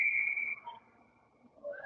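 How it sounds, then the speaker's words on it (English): A referee's whistle at an ice ringette game sounds one sustained, piercing blast that fades out, followed by a faint second chirp, heard from across the rink. "St. Albert called for both sides of the blue line, and a whistle goes."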